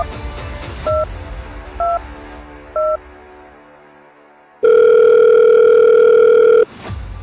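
Three short touch-tone beeps from a telephone keypad are followed by a pause and then a long, loud ringback tone, as a call is dialed to the 1930 cyber crime helpline.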